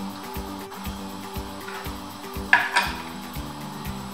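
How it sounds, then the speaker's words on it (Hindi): Metal lid of a pressure cooker being closed over simmering lentils, a brief clanking scrape and clatter of metal on metal standing out over a steady rhythmic background hum. "तो अब इसको कुकर को बंद कर देते हैं।"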